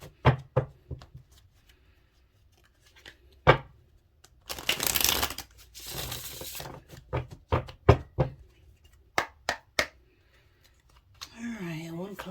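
Tarot cards are shuffled close by with crisp riffles and taps, a long dense burst in the middle among scattered card snaps. A voice enters at the end.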